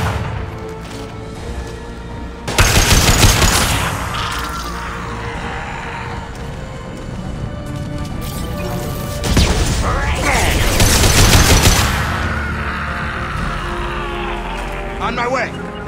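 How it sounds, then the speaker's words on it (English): Bursts of gunfire in the video game Mass Effect 2: a loud, dense volley that erupts, fades to a steady background rumble, then flares again in a second sustained barrage. "Taking some fire, Shepard."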